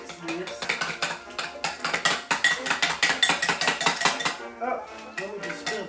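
Texas sheet cake batter being mixed in a bowl by hand, a quick rhythmic run of scraping, clinking strokes of utensil against dish, close and continuous before slowing at the end.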